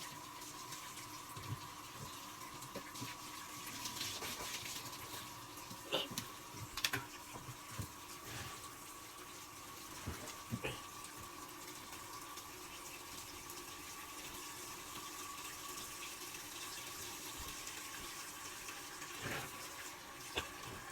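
Water running steadily from a tap during hand-washing of laundry, a constant hiss with occasional splashes and clatters, moderately loud and close, no voices.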